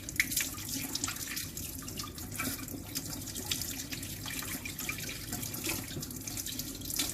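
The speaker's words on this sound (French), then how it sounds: "je lave mon fouet." Whisk rinsed under a running kitchen tap while making Turkish tulumba, a steady close splashing stream of water hitting metal and sink with small drips throughout.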